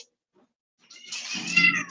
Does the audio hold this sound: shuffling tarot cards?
no